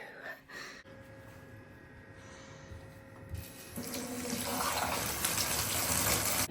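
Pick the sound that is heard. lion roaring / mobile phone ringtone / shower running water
shower running water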